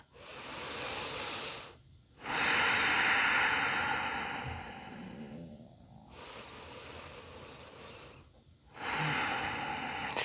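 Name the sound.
five deep breaths during a yoga pose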